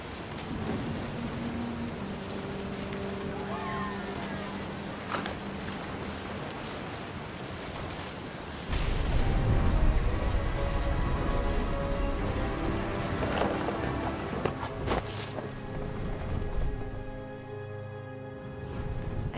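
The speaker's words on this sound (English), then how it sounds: "The thunder sounded much too close and full of angry power" Heavy rain and a thunderstorm in the video game What Remains of Edith Finch, a continuous downpour with rolling thunder that swells loudly partway through, while faint musical tones sit underneath and no one speaks.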